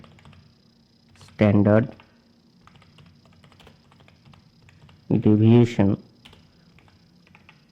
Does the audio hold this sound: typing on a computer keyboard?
yes